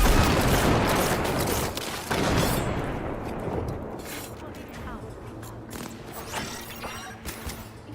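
Gunfire from an odd but effective weapon in the Cyberpunk video game, a dense, loud burst of overlapping shots early on that thins into scattered bangs and background game noise.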